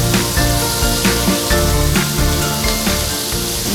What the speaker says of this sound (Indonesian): Sekarang kita mulai bakar satenya.